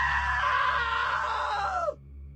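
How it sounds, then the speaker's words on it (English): Sven, a man in the video game What Remains of Edith Finch, lets out one loud, drawn-out scream close up over a low background hum, the cry sliding downward before breaking off abruptly. "Now that was a great scream."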